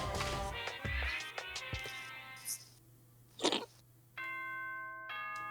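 Ding-dong chime from the video game Danganronpa 2, ringing as two short bright tones against a steady game background, then a sustained chiming tone that holds to the end with no talking.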